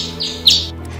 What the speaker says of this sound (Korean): 지저귀는 소리 좀 들어봐요